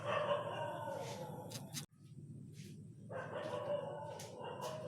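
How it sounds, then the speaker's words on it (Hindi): A dog barks repeatedly in short sharp bursts, fairly close, with a brief silent gap midway, over a noisy room background. "कुत्ते की आवाज़ से बिना परेशान हुए"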